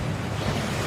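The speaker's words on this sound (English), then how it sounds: "That waterfall washes away all enchantments" A waterfall in the Hogwarts Legacy game gives off a broad, rushing roar of falling water, steady and full for a brief moment, with no voices over it.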